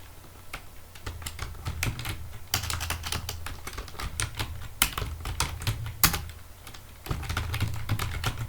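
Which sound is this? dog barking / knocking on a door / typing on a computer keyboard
typing on a computer keyboard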